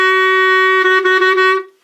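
A clarinet sustains a single steady A flat, close and loud, with a rich stack of harmonics and slight wavering in the middle before it cuts off cleanly near the end.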